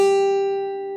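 A single sustained G note picked on the low E string at the third fret of a guitar, ringing steadily alone and slowly fading over about a second.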